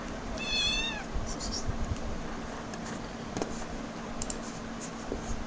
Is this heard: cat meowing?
yes